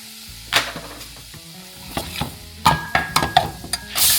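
Urad dal paste with spices sizzles and roasts in a hot pan. A steady fry hiss runs throughout, with repeated clinks and scrapes of a spoon stirring against the pan.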